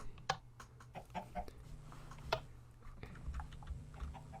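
A chicken clucking with a few sharp, brief clucks and pecking ticks scattered over a low steady hum, moderately close, with no talking.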